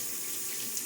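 Water runs from a tap to wet shaving soap, a steady bright hiss of flowing water that stays even and close across the short moment.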